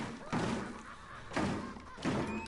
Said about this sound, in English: there's people banging on this door